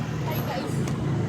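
A motorized tricycle rumbles past on a road at night, its steady engine drone and road noise continuous beneath a busy background of voices.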